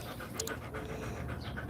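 A dog pants close by in quick, steady, breathy bursts that run continuously without pause.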